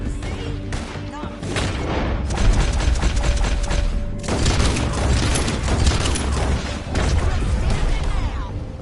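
Rapid gunfire in a Red Dead Redemption 2 shootout, with bursts of shots and booming reports crackling over several seconds, loud and close, with brief speech in between.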